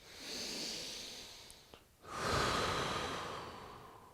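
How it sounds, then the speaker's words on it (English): A slow, deep exhale during a hip stretch, soft and close, a long airy breath that fades, pauses briefly, then swells again into a fuller breath. "Notice as I exhale, it's getting deeper."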